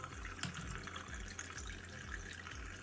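Tap water running over the head of a Panasonic ES-RT37 wet and dry shaver while it is rinsed, a soft steady splashing trickle at low level with faint clicks.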